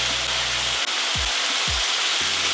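Chicken fillets frying in oil in a pan give a steady, close, broadband sizzle that runs the whole time, with a few low thumps as pieces are set down.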